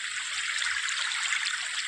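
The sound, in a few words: flowing river water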